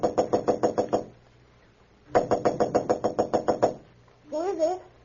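A rapid run of crisp knocks on a hotel room door, two bursts of about eight to ten raps each, close and loud, followed by a brief spoken reply in a radio drama.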